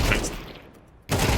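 A short burst of gunfire in Counter-Strike opens loud and close, drops away into near quiet, then another loud burst of shots cuts in at the end.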